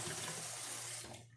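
Cooler tap water pours steadily into a canning pot of jars, a broad continuous rush that cuts off near the end and leaves a faint tail.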